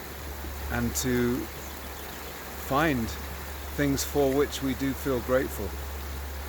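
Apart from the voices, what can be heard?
flowing water of South Boulder Creek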